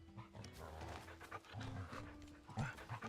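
Torgal the wolf pup pants softly in a video game, quick faint breaths over a low rumbling music bed.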